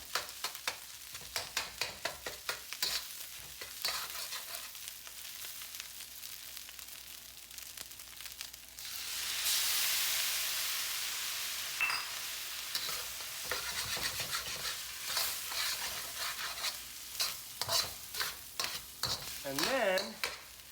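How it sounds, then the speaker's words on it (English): Leftover fried rice is stir-fried in a pan, with a spatula scraping and clattering in rapid strokes before a loud sizzling rush as kimchi juice is added, then more steady stirring and frying. "Now I'm going to add the kimchi juice while I continue to break this up."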